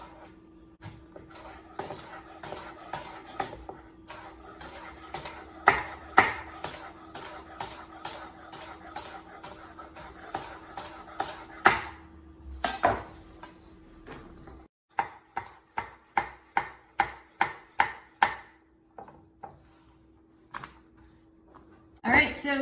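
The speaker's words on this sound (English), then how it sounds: "I'm just gonna start slicing it. Rhubarb slices kind of like celery" A knife cuts through fibrous rhubarb stalks on a cutting board, giving a long run of sharp, evenly spaced chopping clicks, speeding up into a crisp steady rhythm near the end, close and clear.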